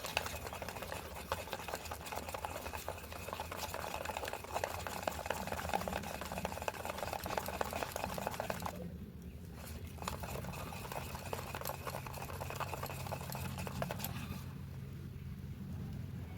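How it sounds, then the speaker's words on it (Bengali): Tomato and coriander chop batter, seasoned with turmeric and chilli powder, is beaten by hand in a bowl in a village kitchen, giving a steady, continuous rapid whisking and stirring noise with no pauses. "এগুলো দিয়েও ভালো করে ফেটিয়ে নেবে।"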